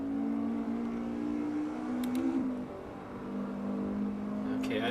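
A race car engine in Assetto Corsa at Brands Hatch Indy drones steadily at high revs, dipping briefly as if shifting or lifting, then climbing again, loud and continuous with a thin whine and faint tire noise.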